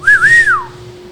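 A person whistles once in imitation, a short, loud, close tone that rises, dips and rises again before sliding downward.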